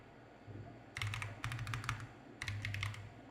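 Fingers type on a computer keyboard in short bursts of quick, close clicks with a brief pause between them, in a quiet room.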